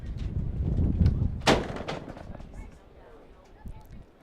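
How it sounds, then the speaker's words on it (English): A door being jarred by gusting wind at an outdoor U18 girls' soccer match, one sharp bang standing out midway with lighter knocks around it, over windy background noise. "you're probably hearing a few bangs. That's our door is getting a jarring from the wind as well from time to time"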